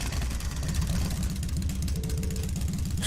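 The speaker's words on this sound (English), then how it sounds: "I'm going to start up the engine now" A motorcycle engine in the video game Trails of Cold Steel starts up and settles into a rapid, steady idle, loud and close with a throbbing low putter and no voices.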